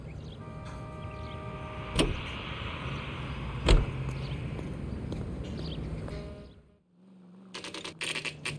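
A 1940s-era car is driven in the L.A. Noire video game, a steady engine drone with a couple of sharp thumps, then a brief drop to near silence before a new engine tone and clattering noises begin.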